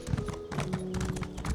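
Rapid, steady clip-clop of a horse mount's hooves in Elder Scrolls Online, close and rhythmic over a faint tonal game background.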